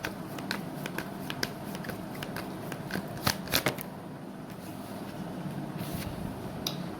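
Tarot cards are shuffled for a reading, a steady run of soft, close riffling and crisp flicks with a few sharper slaps partway through and quiet background hiss.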